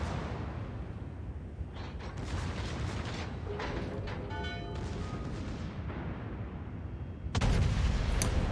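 Secondary guns on the German battleship Hannover fire in World of Warships amid steady battle rumble, with scattered booming shots and a heavy close blast near the end.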